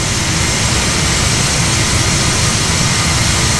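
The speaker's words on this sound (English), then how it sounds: "Engines are humming away." Airplane engines drone loud and steady in flight high over New Zealand, a dense, unbroken roar filling the whole moment with no voices.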